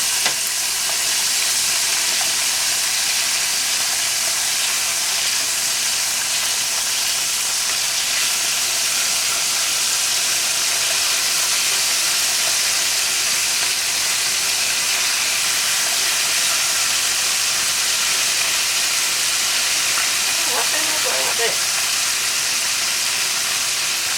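A pork chop frying in a pan just after being turned, giving a steady loud sizzle and hiss of hot fat that runs alone and unbroken throughout.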